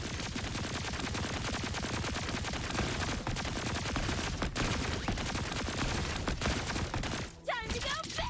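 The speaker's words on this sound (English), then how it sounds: "She has like these really cool like laser guns." Rapid laser gun fire in a video game, a dense continuous barrage of shots that dips briefly near the end, where a short voice-like sound cuts through.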